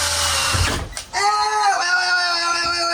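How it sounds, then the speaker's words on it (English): A power drill whirs with an object caught in its bit and spinning around, a buzzy, rising mechanical whine that cuts out briefly and then resumes steadily, close and loud, with a voice crying out at the start. "this thing just got caught in the drill bit and spun around"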